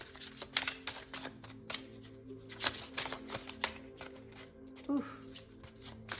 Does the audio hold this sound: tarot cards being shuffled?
yes